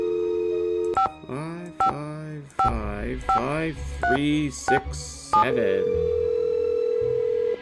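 Phone keypad tones beep out a number one by one in a Nancy Drew video game, each burst of dialing followed by a short pause, then a steady ringback tone drones at the end, with a voice talking between the tones.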